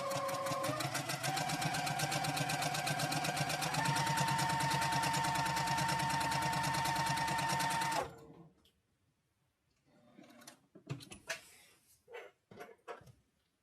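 Domestic sewing machine stitching a quilted zipper case, running steadily and loudly for about eight seconds with a brief change in speed partway through, then stopping, followed by quiet handling noises and a few soft clicks.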